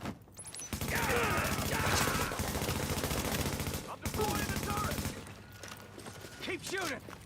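Rapid bursts of video game gunfire from a Division shooter rattle continuously and loudly, with dense automatic fire and overlapping shots while players talk excitedly over the battle.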